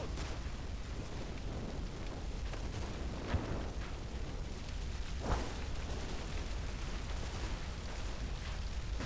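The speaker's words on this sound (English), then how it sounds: "area fire is sprayed into suspect locations as the rest of the platoon move up" Area fire in Combat Mission Red Thunder sprays a farmstead, heard as faint, distant bursts and sharp pops scattered over a constant rumbling wash of battle noise.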